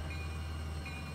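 A Roblox RO-Scale train brakes to a stop, a steady low rumble of rolling rail cars with a faint thin squeal of wheels above it, continuous throughout.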